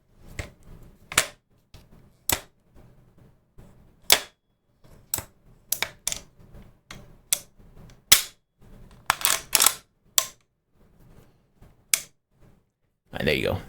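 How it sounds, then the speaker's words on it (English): Crisp metallic clicks and snaps from handling gun parts, sharp isolated clacks spaced irregularly over quiet stretches, with someone talking softly between some of them. "All your little clicky metal gun noises."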